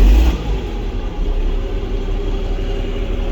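John Deere 4840 tractor engine during a test drive, a loud steady diesel rumble with a low droning hum, close and continuous throughout.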